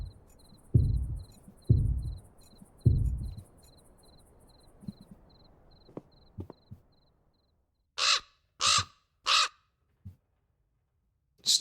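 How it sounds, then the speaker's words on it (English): Three loud crow caws ring out one after another, sharp and close, in the castle of the Black Mirror 2 video game, following low thumps and a faint insect-like chirping. "Stupid crow."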